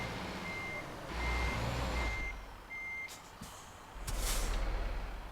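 A heavy truck in Euro Truck Simulator 2 reverses, its evenly spaced reversing beeps sounding over a low engine rumble, with a short hiss like an air brake partway through.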